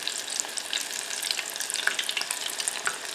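Onions sizzle in hot oil in a pan, a steady crackling hiss with scattered sharp pops throughout, close and continuous with no voices.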